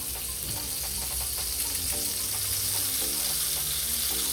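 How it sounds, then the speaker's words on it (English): Butter sizzles in a hot pan while making crab claw and shrimp fettuccine Alfredo, a steady loud frying hiss with bubbly crackle throughout, some background tones underneath. "Your pan gets nice and hot, you're going to go in with some butter."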